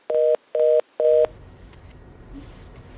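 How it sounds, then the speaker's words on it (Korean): Three evenly spaced telephone tones pulse loudly after a phone call cuts out, followed by faint line hiss and low noise. "오랜만에 전화하다 보니까 전화 연결이 잠시 끊긴 것 같은데요"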